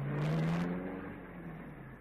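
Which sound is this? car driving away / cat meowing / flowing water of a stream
car driving away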